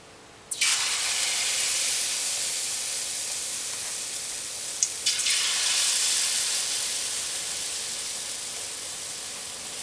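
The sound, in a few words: banana fritters dropped into hot oil, frying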